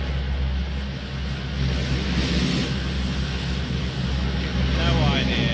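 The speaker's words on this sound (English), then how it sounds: "When the plane comes over, we will use that noise to bail." An airplane passes overhead in the PUBG battle royale game, a steady low engine drone that swells slightly louder toward the end, with someone talking over it.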